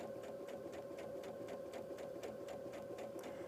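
A sewing machine stitches quilt block fabric in a fast, even run of needle strokes, steady and fairly quiet, with no voices.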